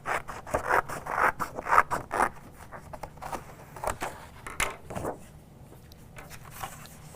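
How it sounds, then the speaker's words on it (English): Scissors slicing straight across a piece of craft paper for a jungle party banner, a run of close rasping, rustling cuts in quick bursts that thin out toward the end, with no talking. "So it looks like if I just cut this straight across,"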